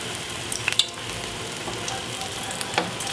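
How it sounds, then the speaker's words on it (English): A floured vegetable ball for Chinese New Year deep fries in hot oil, a steady soft sizzle with a few brighter crackles and pops, moderately quiet and with no talking. "and then deep fry like that"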